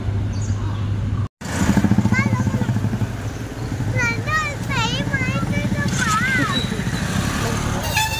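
A two-wheeler's engine hums and putters steadily close by as it is ridden off to be parked, with people talking over the running motor.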